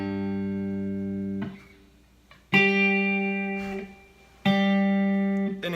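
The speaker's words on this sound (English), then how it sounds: "we'll play the open G string" The open G string plucked on a guitar, three notes each ringing clearly and sustaining before fading, played alone with no talk.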